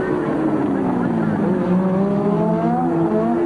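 Formula 1 race cars from 1983, a Ferrari among them, scream past on a street circuit, their high engine notes rising and shifting as one overtakes another, with commentary over them.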